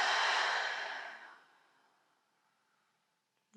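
A long, deep exhale through the mouth during yoga breathing, a soft breathy rush that fades slowly to near silence before a faint new sound begins.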